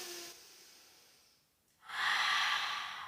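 Deep breathing during a barre-pilates exercise: a soft nasal inhale, then a quiet pause, then a long, loud, breathy exhale close to the mic, with no talk.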